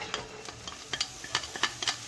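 Onions frying in sesame oil in a very hot pan, with soft sizzling under a run of light clicks and scrapes from stirring, close and moderately quiet, with no voices.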